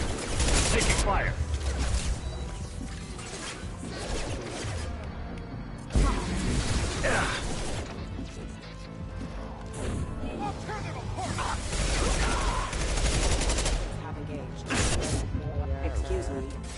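Gunfire and combat effects in Doom sound continuously, a dense clatter of shots, mechanical noises and crashes, with someone talking over much of it.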